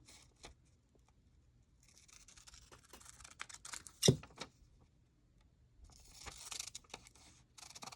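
Paper being trimmed with scissors for a junk journal tag, brief soft snips and rustles with one sharp louder cut near the middle, quiet and close with no talk.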